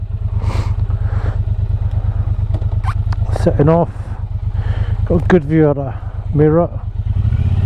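Triumph Bonneville T120 Black motorcycle pulling away, a steady low parallel-twin thrum running throughout while someone talks over it in bursts, engine note close and fairly loud.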